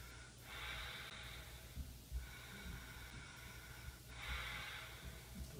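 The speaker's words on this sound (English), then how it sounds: "3 more breaths" Deep breathing during a chair yoga session comes in long, airy inhales and exhales, about three slow cycles, close and steady with no talking.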